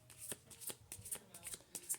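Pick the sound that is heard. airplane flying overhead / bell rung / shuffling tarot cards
shuffling tarot cards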